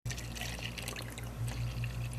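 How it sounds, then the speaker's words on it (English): Water pours steadily into a cup, giving a close, continuous liquid splash and trickle that holds at an even level throughout, with no talking. "pour water into the cup about a quarter of amount"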